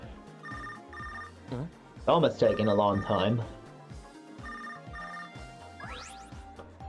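A cell phone rings in the video game Tokyo Mirage Sessions, a repeating electronic ringtone in short tonal bursts over game music, with a person talking briefly in the middle.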